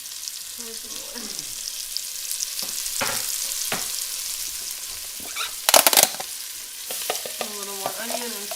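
Onion fries in leftover grease in a pan, with a soft crackle, intermittent scraping stirs and one louder burst of sizzling; a voice speaks briefly.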